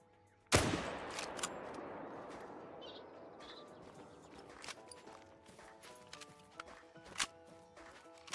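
A loud, sharp .303 rifle gunshot rings out in theHunter: Call of the Wild, a single near blast with a long decaying tail, followed by faint outdoor ambience, distant birds and a few soft clicks.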